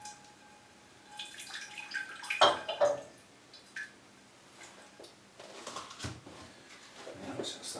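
Faint trickle of water poured onto potted orchids, with soft drips and splashes in bursts under quiet room noise and a voice talking.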